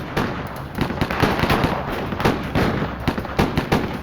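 Rapid gunfire traded between police, FBI agents and a fugitive cop killer during a shootout, heard as dense rapid cracks and pops, loud and overlapping in irregular bursts with no voices.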